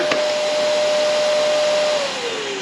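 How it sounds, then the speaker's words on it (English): A vacuum cleaner from a Costco returns pallet runs with a loud steady whine and airy rush, holding a constant tone before its pitch drops slightly near the end, no voices. "this vacuum did come on"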